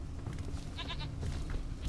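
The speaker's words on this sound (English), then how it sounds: "I can hear a goat" A goat bleats in The Witcher 3 game with a short, wavering cry over a busy bed of ambient game sound, moderately loud.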